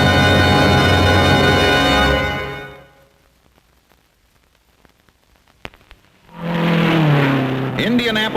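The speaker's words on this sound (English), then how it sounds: "Indianapolis, 1957, America's toughest race. Here's the finish line" Race cars roar past during the 1957 Indianapolis race, a loud engine blast fading into near silence, followed by another car sweeping in close with rising revs and a tire squeal.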